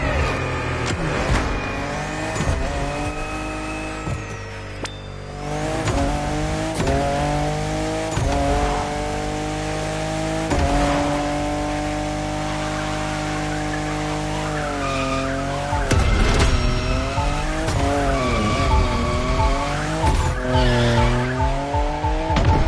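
Car drifting in The Crew Motorfest racing game, with sustained tire squeal over a loud revving engine whose pitch rises and falls through the slides, continuous and close for the whole stretch.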